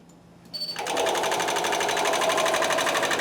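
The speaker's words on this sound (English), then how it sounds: "we can watch the Spangle machine work" A Spangle Elite sequin embroidery machine starts after a brief quiet moment and settles into a steady, loud, rapid mechanical chatter while stitching a two-color design, running alone without talk.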